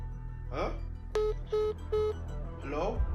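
A phone keypad gives three evenly spaced electronic beeps as someone types, set between short bursts of talking, with a low background hum throughout.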